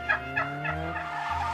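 A turkey gobbles in a quick run of four or five warbling bursts, close and fairly loud, with no talk over it.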